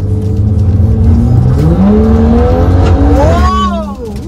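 A modified BMW F32 435 pulls away and accelerates hard, its engine note climbing steadily through the revs with an upshift near the end, loud and close from inside the car.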